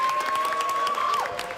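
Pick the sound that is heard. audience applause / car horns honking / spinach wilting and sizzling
audience applause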